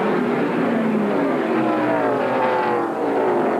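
Stock race cars thundering around Darlington Raceway in a 1984 NASCAR Busch Late Model Sportsman Series race, a loud continuous roar of engines with rising and falling pitch as the pack accelerates past.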